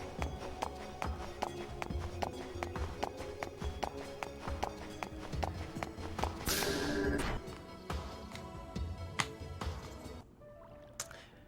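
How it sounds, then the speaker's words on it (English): Shion's footsteps in Xenosaga Episode 3, a steady run of sharp, evenly spaced clacking steps, close and fairly loud, interrupted briefly by a brighter burst of game sound and ending with a quieter tail. "I kind of like the footstep sounds in this game"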